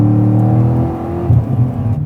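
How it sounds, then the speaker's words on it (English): Chevrolet Corvette C6 Z06 with its 7-liter V8 cruising gently, a steady low engine drone with a smooth hum and a slight swell of load near the end, heard from inside the car with no talking. "This, I love how smooth this 7-liter V8 is."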